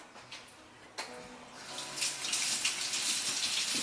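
Tap water runs while food is washed before grilling, the flow starting softly then swelling into a steady, fairly close gush that carries on to the end with no talking.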